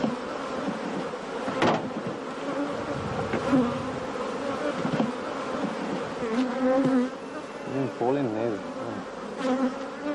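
Honeybees buzzing in a dehesa of Hornachuelos, a dense continuous droning hum from many insects close by, with individual bees swelling louder as they pass, and no talk.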